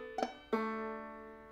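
Clawhammer banjo pull-off on the third string, released from the second fret with no brush stroke: a soft first pluck, then a brighter second note that rings and slowly decays, heard alone.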